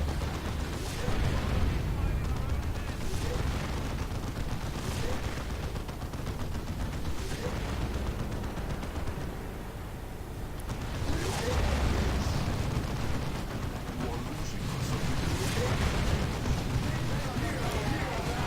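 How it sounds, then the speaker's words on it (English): A Baneblade super-heavy tank fires in a Dawn of War 2 battle, with heavy booming blasts rolling among dense gunfire and explosions. The bursts surge and fade across the whole stretch while someone talks over the din. "That Baneblade blast."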